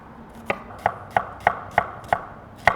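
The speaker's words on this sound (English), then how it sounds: "I'm gonna start dicing up this red onion" A knife dices a red onion on a cutting board in a kitchen, making about eight crisp, evenly spaced chops in a steady rhythm, close and clear with no talking.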